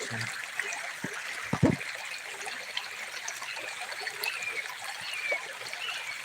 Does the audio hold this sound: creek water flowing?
yes